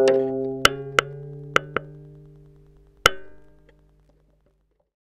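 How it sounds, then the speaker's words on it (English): A plucked D string on a stringed instrument rings while its tuning peg is turned, sustained pitched tones slowly decaying, interrupted by several sharp percussive clicks and a final isolated pluck. "pluck the string and turn the peg while it's ringing."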